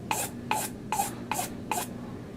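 Five even rasping strokes of hand-finishing on a bowling ball's drilled hole to take off burrs, each a short close scrape spaced about half a second apart, heard alone in a quiet room.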